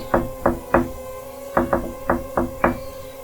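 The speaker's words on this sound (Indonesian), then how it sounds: "Ia mencoba untuk mengetuk lagi." Knocking on a wooden house door: two groups of sharp raps, three evenly spaced knocks, a pause, then five more in a quicker, slightly uneven run, close and clear with no voices.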